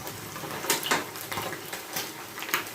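Fried fish lifted from a hot frying pan, with soft clinks of a utensil against the pan over a faint background sizzle.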